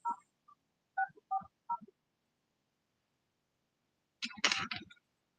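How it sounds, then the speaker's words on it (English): Touch-tone keypad beeps as a cell phone number is dialed, a run of short separate tones that ends in a longer tone burst, close and fairly quiet, with no talking. "Let me call my cell phone"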